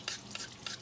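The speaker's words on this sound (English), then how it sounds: "So you always want that under running water" Ceramic filter from a terracotta water purifier rinsed under a running tap, close splashing water with a few brief bursts as the filter moves through the stream.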